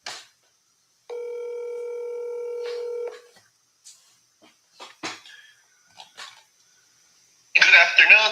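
Telephone dialing a call to a listing agent: a steady tone held for about two seconds, then scattered short clicks and a cough, ending with a burst of voice on the line.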